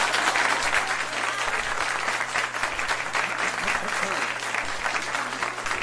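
Sustained applause from a large audience, a dense steady clatter of clapping that holds evenly for several seconds with a faint hum beneath.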